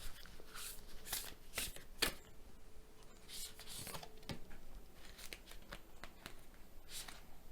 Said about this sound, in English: So I think we will draw some oracle cards first.